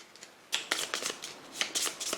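A deck of Pathfinder Adventure Card Game cards is shuffled by hand in quick, crisp bursts of riffling and flicking, close and alone, with short pauses between the sets.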